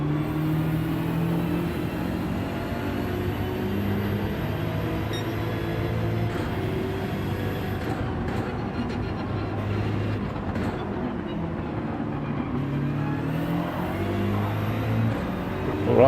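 A Ferrari race car in a racing video game accelerates out of a corner, its engine droning steadily and climbing in pitch over a sustained, loud mechanical roar.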